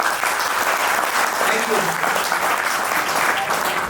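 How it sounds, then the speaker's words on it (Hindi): An audience claps loudly and steadily throughout at an offline business training meeting, a dense, continuous roar of applause while a voice speaks briefly over it. "एक बार तालियां बजाओ, फिर मैं आपको इसका राज बताऊंगा।"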